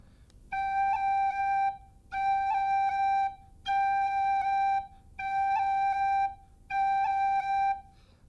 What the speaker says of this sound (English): a roll, when completed, is a treble first, and then the beating of your finger off the G note.